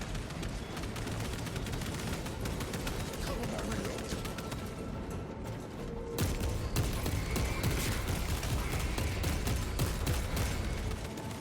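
Bolt rifle fire in Warhammer 40,000: Space Marine 2 rattles in dense, rapid bursts among booming explosions and battle noise, a continuous loud barrage with no pauses.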